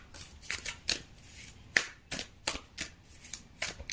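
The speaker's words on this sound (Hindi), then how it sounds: "फटाफट हम कार्ड निकाल लेते हैं आपके लिए" Tarot cards being shuffled and drawn by hand, a quick run of crisp riffling bursts and light snaps, close and fairly quiet, with no talking.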